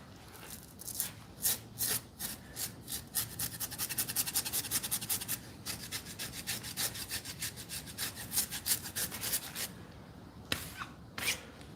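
A knife shaves the skin of a pig carcass in steady, repeated rasping strokes, a rhythmic scraping that goes on for several seconds with brief pauses, close by and moderately quiet.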